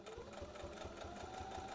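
A sewing machine stitches a seam on a reversible bucket hat, a steady, fast mechanical chatter with an even rhythmic pulse, fairly quiet and close.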